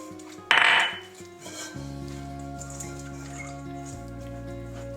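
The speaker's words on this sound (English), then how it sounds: "you take your pot, and you oil it" A cooking pot being picked up and handled while making hot cross buns, with one sharp metallic clank up front, followed by lighter clinks and a low steady hum of kitchen noise.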